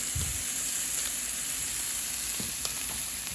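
Food sizzles and fries steadily in a hot pan just after being flipped, a constant close hiss with a few soft bumps of handling, no voices.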